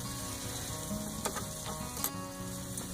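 Sausage and scrambled eggs sizzle quietly in a pan as they are stirred, a low steady frying hiss with a few soft scrapes and clicks, faint and without talk.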